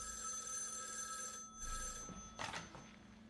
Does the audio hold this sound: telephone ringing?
yes